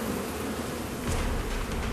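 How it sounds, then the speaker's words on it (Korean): Agitated honeybees swarm and attack around beekeepers, a dense, loud, continuous buzzing that swells close to the microphone. "잔뜩 예민해진 꿀벌들이 맹렬하게 공격을 퍼붓습니다."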